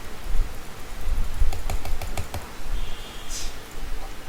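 Rapid keystrokes on a computer keyboard as a domain name is typed, a quick run of close clicks over a steady background hiss, with no voices.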